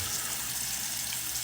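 Water runs steadily from an opened tap into a sink, a constant hissing gush at moderate level with no talk over it.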